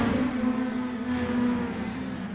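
Mini stock race cars race around a short track, a loud, steady engine drone with a strong held tone from a nearby car running at sustained revs.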